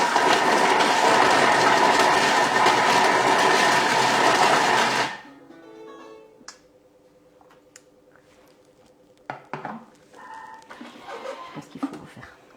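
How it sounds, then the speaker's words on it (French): Thermomix blending ham ravioli filling at speed 5 gives a loud, steady whirring roar for about five seconds, then cuts off abruptly, leaving quiet kitchen clinks and faint rustling. "on va juste mélanger 5 secondes à 5 et on va voir"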